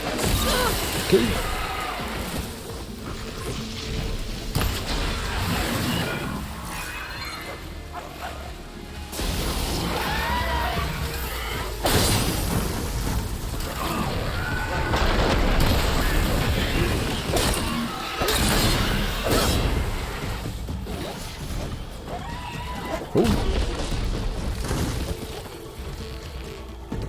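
Acid canisters on machines in Horizon Forbidden West burst in a rapid chain of crashes and booms amid game music and mechanical clatter, with loud impacts repeating across the stretch.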